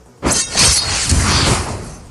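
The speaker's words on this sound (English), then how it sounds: "The zombie's body instantly cracked with numerous fissures, then exploded with a bang, shattering into pieces." A zombie's body bursts with a sharp bang and shattering crack, followed by a loud, sustained rush of breaking debris that fades over about two seconds; no voices.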